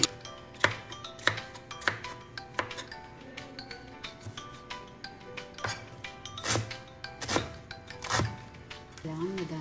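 Salad dressing sweetened with Splenda being mixed in a bowl: a series of sharp taps and clinks from a utensil against the container, irregular and close, with softer scraping between strikes.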